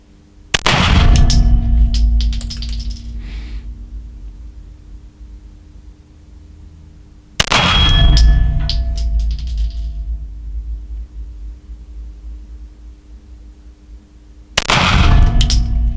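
Three loud, sharp single pistol shots from a Kimber Aegis Elite Custom fired with open sights on a 25-metre precision range, spaced about seven seconds apart, each ringing out with a long decaying reverberant tail and no talking.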